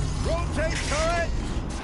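A machine turret swivels in Horizon Zero Dawn with rising, whining mechanical servo tones and creaks in short bursts over a steady low rumble.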